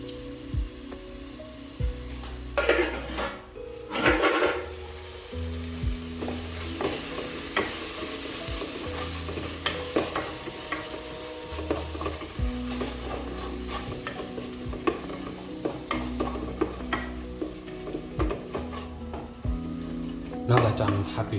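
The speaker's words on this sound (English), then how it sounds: "I'll add in some tomato paste, then I'm going to let this cook for about 2 to 3 minutes" Tomato paste sizzles and fries in a pot for a beef stew, with a steady hiss under repeated stirring scrapes and occasional clanks of utensil against the pot, all without speech.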